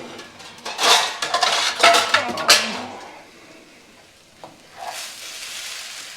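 Plates and steel dishes clatter and clink loudly up close in a home kitchen as a plate is pulled out, with sharp bursts of rattling over faint frying in the background, then a few quieter clinks.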